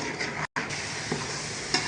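Onions already golden with tomatoes just added, frying in a pan for a fish fry masala; a steady sizzle with soft stirring scrapes, cut off by a brief gap of silence partway through.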